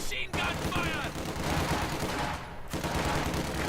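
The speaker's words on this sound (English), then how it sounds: "MG42." MG42 machine gun fire in a Company of Heroes 2 battle: dense rapid bursts of automatic gunfire and overlapping shots, loud and continuous, with a brief gap partway through.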